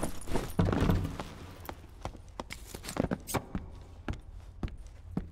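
Footsteps in the dungeon game Dark and Darker thud and tap irregularly, some close and sharp, others softer, over a low ambient rumble.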